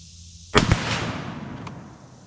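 A single rifle shot fired from a rest: one sharp, loud crack followed by a rumbling echo that fades slowly over about a second and a half.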